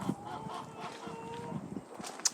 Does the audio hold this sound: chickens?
yes